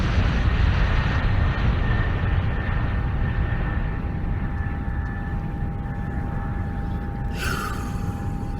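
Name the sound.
airplane taking off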